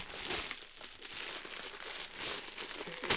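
Paper envelope of comics being torn open and crinkled by hand, close and quiet, with rustling bursts and a sharper rip near the end.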